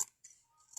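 Scissors snip through abaya fabric in a couple of quick, close, quiet cuts separated by a brief pause.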